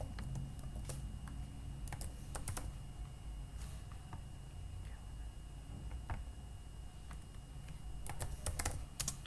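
Steady typing on a computer keyboard while writing JavaScript code, with quick, close key clicks in irregular bursts and a few sharper taps over a low room hum.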